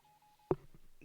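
Old telephone dialing tones: a steady faint tone holds for about half a second, then a sharp louder burst and a few short follow-up beeps, alone with no talk.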